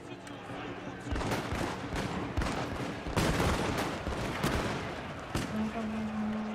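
Volleys of musket gunfire from skirmishing infantry units in Shogun 2, dense overlapping cracks and pops firing repeatedly over several seconds amid battle din, with a steady tone entering near the end.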